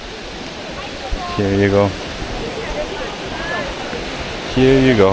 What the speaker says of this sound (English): Oh, maybe this is the waterfall